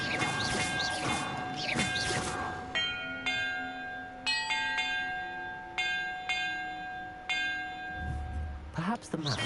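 Bells ring in Hogwarts Legacy, a series of about five clear, resonant tolls spaced a second or so apart, each ringing on and decaying after a burst of chiming at the start.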